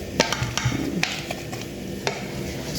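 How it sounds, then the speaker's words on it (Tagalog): Boiled potatoes being mashed in a pot, giving soft squishing strokes and several sharp taps of utensil on metal spaced irregularly, fairly close, with no talk. "Habang nyo na mash nyo ito na mashed potato"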